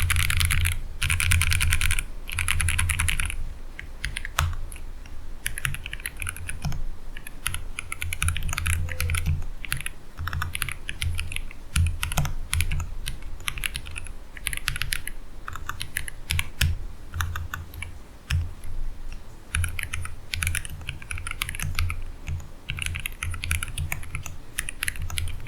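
Continuous clatter of keystrokes on a split ergonomic keyboard from a crowdfunded maker, close and steady with brief pauses, no voices.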